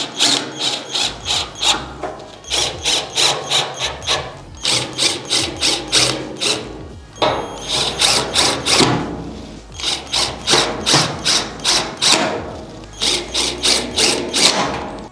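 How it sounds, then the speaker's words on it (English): A screw is driven into the bottom of a furniture piece during assembly, probably with a ratcheting driver. Quick bursts of clicking come in steady runs with short pauses between them, close and loud, with no talking. "you guys want to use the same screw to screw it in the bottom"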